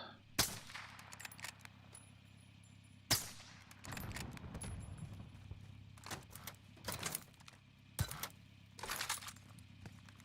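In the shooter Warzone, single gunshots crack out at uneven intervals, about six sharp, loud reports separated by quieter stretches with faint background tones.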